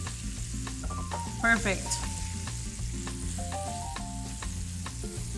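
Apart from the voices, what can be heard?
shrimp sizzling in a frying pan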